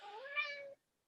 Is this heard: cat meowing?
yes